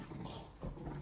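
Cerberus, the three-headed dog in the video game Hades, giving a short, low, rough canine growl and grumble at moderate volume, with no talk over it.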